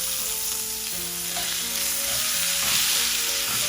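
Steak frying in a pan, a steady loud sizzle with stirring and shifting noises as the meat is turned, continuous and close with no talking.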